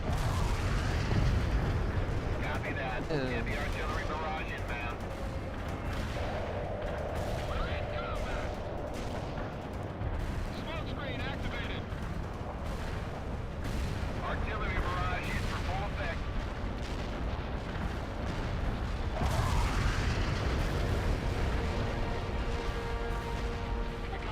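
A city bombardment in World in Conflict: Soviet Assault, with continuous heavy booms, artillery blasts and gunfire rumbling throughout. M551 Sheridan vehicles land amid the shelling while voices talk over the dense battle noise.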